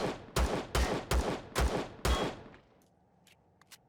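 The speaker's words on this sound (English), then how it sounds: "going to use up the pistol ammunition" A pistol fires in the video game Empyrion Galactic Survival, five sharp, loud shots evenly spaced about half a second apart, each with a short decaying tail, followed by quiet with faint clicks.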